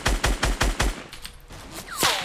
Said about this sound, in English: I'm going to try to shoot this guy's build down